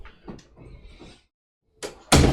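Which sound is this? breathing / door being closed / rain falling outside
door being closed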